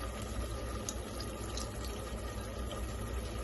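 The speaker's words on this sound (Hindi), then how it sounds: "ये हम गर्म पानी में इसको हर तरफ से साफ कर लें इस प्याले को।" A bowl being rinsed in hot water at a kitchen sink while cooking egg kofta curry, with steady splashing and running water close by throughout.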